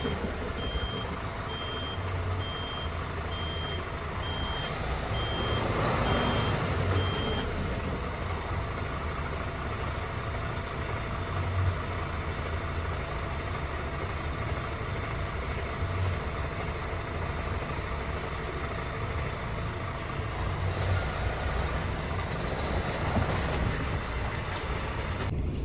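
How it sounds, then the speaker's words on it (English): A truck with a trailer stuck on an icy road reverses while its engine drones and a reversing beeper pulses for several seconds, the wheels spinning under steady engine noise. "And as I'm trying to reverse now, the wheel starts spinning again."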